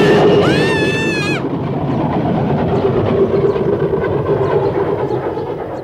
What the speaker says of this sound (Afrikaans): Dis ons trein daai, Heidi, sien jy?